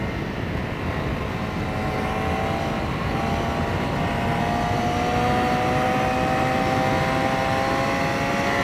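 A BMW HP4 motorcycle engine at speed while riding, a steady loud drone with wind rush and slowly rising engine tones, continuous with no talk.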